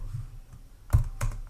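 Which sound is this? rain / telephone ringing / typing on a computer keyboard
typing on a computer keyboard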